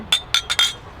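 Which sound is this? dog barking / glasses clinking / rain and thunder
glasses clinking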